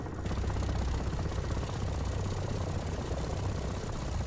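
A military aircraft engine idles in the DCS flight simulator, a steady loud droning whine and low rumble that holds without change.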